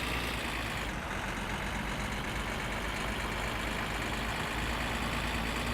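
A car engine in the driving game My Summer Car, driven off-road in first gear: a steady, dense, loud engine roar with rumbling low end holds constant throughout, with no talking.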